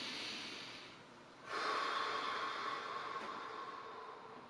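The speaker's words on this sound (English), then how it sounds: "Heat up that tissue with your breath." Breathing during a hip and SI joint stretch: a quiet exhale fades out, then a long, loud, airy breath through the nose or mouth follows, close and steady.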